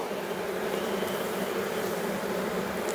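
Honey bees hum steadily at a beehive, a dense, continuous buzzing swarm close by with a constant drone and no pauses or voices.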